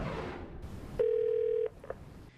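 A telephone call being placed: a few short dial tones followed by one long steady tone, clear and close in a quiet room.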